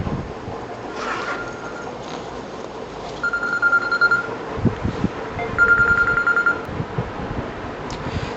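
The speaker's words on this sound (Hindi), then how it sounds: "घर से आ रहा था मेरे फ़ोन" A phone rings with a call from home, repeated electronic ring bursts sounding over a noisy, rumbling room.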